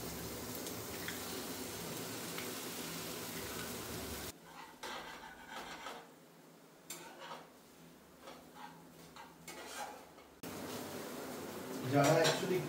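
Egg goes into a pan of fried garlic while noodles cook, giving clinks of utensil on pan and a soft sizzle, with a quieter stretch in the middle and a louder clatter near the end.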